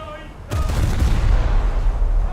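Heavy naval guns of the battleship HMS Repulse fire in a video game: a sudden loud blast followed by a long rumbling roar that stays strong to the end.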